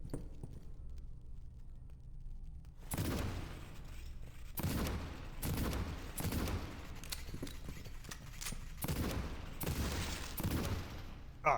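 Gunfire in the video game Cultic: after a quiet start, a series of loud, booming shots rings out at irregular intervals, several in close succession, each followed by a short rumbling tail.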